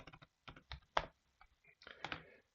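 Short bursts of keystrokes on a computer keyboard while writing Python code, quiet and close, with irregular clusters of clicks separated by brief pauses and no talk.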